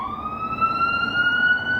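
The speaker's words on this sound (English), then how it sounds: "as the ambulance goes by" An ambulance siren passes by, its steady wailing tone sliding slowly upward and holding loud and continuous throughout, without any voices.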